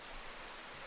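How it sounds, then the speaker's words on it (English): Steady rain falling heavily outside during a thunderstorm, a dense continuous hiss of drops on surfaces, fairly quiet and even with no voices. "if it was raining heavily, like it's raining now"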